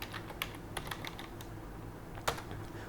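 Typing a Java class name on a computer keyboard: scattered key clicks, a few sharper taps and one louder keystroke near the end, close and alone over a low steady hum.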